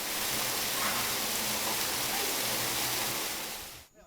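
Water from a government tanker truck gushing steadily into a 2 cubic metre household well, a loud, even rushing pour that lasts and then cuts off abruptly at the end.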